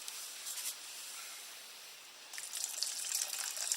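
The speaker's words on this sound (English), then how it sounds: "I take my water and I put it into my" Clean water pours into a container used for washing art brushes, a soft watery hiss that begins quietly and swells into a steadier splashing gush near the end, with no talking.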